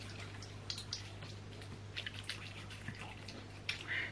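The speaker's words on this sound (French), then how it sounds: "Donc je mouille un peu mes mains." Tap water splashes and drips as hands are wetted at a sink, a steady faint trickle with scattered small splashes, close by and without talk.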